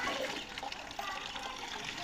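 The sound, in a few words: water from a water tank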